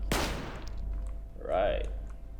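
Gunfire in the sci-fi RPG Stellar Tactics: one sharp, loud shot rings out at the start, followed by a quieter electronic sweep with a rising and falling tone, and no talking over it.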